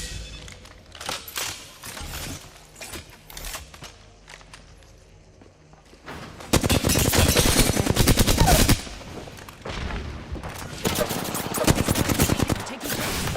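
Gunfire in a video game as the player takes hits: rapid automatic bursts come close and loud, alongside quick footstep taps, with quieter stretches between the heavy volleys.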